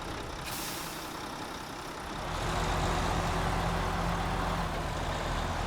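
A Mack Pinnacle log truck with a medium log frame idles close by, then its engine rumble swells louder and steady, with a faint hiss early on; no one speaks.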